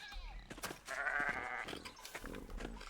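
A sheep bleats in the medieval village of the video game Pentiment, close and clear, with a wavering cry in the middle of the clip. Soft background sounds continue around it.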